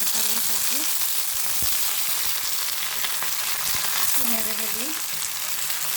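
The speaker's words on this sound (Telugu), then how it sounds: "ఆవాలు, జీలకర్ర, మెంతులు, శనగపప్పు, ఉద్దిపప్పు వేసేసిన కలిసి, అవన్నీ వేగిపోయినాయి" Mustard seeds, cumin, fenugreek, chana dal and urad dal frying in hot oil with onions as the tempering for a chickpea curry, a loud, continuous sizzle throughout, with a faint voice briefly audible underneath.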